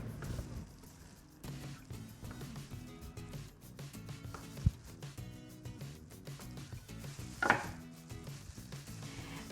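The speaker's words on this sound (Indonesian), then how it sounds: "Sekarang kita potong tidak putus," A knife cuts partway into a green banana, giving soft, irregular taps and thuds against a board up close, with one sharper knock. The cutting is quiet, steady and without voices.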